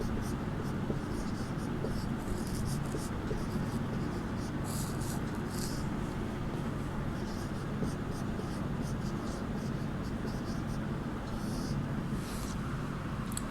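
Chalk or marker writes by hand on a board during a Sanskrit class, a continuous series of short scratchy strokes in quick rhythm over a steady room hum.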